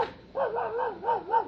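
A dog barking or yelping, a few wavering, whining cries in quick succession, moderately close and loud, heard alone without talk.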